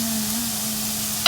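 Ginger goes into a hot frying pan and sets off a steady, even sizzle, ending with a brief clink of a utensil.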